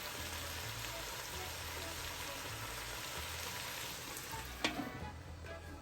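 Jamaican fried cabbage sizzling in a pan, a continuous crackling fry with a soft stir and a brief clatter near the end, close and steady with no voices.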